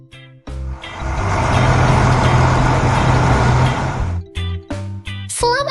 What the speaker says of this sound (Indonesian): Truk itu melaju membawa muatannya pergi